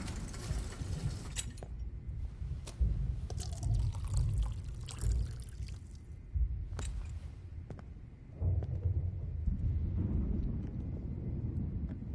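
Water being poured in the video game Life Is Strange, a steady splashing stream with low rumbling and a few sharp clicks, moderately close and continuing through most of the passage without talk.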